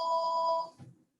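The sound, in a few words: telephone ringing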